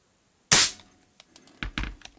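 An Artemis CR600W CO2 air rifle fires with a sharp, loud crack followed by a quick series of smaller clicks and clacks from cycling the action, close up.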